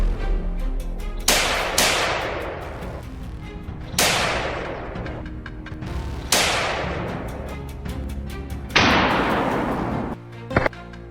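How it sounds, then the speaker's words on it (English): Rifle shots fired at a herd of wild boar during a hunt, five loud separate cracks spaced a second or two apart, each with a long rolling echo decaying outdoors, followed by a brief sharp clatter. "They identified targets, brought their scopes to bear and fired"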